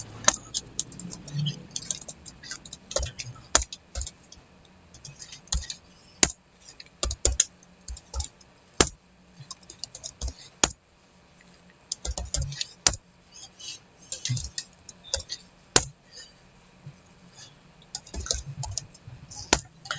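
Computer keyboard keys clatter in quick, uneven bursts as names are typed into a document, each keystroke a sharp click with short pauses between runs, close and fairly quiet.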